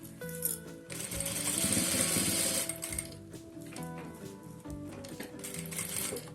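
Sewing machine stitching fabric for a four-pocket box case, a steady loud mechanical run with rhythmic needle chatter, pausing briefly then resuming in shorter bursts.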